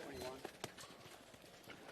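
Horse hooves clip-clopping in a campdraft arena at the Ringers Western Gold Buckle Championship, faint irregular thuds at a distance beneath an announcer's talk.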